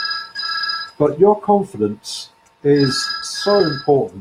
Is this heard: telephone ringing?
yes